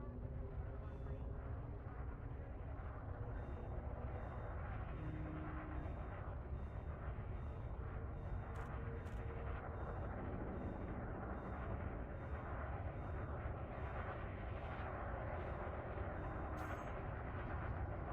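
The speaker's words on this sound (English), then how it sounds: "Landing gear retracted. Clamps have released. You have liftoff." Spaceship engines in Elite Dangerous roar in a constant low rumble through liftoff, with faint periodic ticks and a brief high tone above the drone, and no talk.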